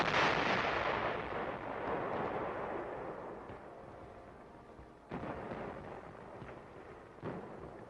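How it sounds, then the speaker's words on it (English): A big artillery gun on the Korean front in winter fires a loud booming shot that rolls away slowly, followed by two more sharp blasts later on. "there's plenty of ammunition here to keep this big gun firing"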